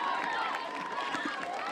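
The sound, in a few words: happy crowd cheering at stadium after soccer match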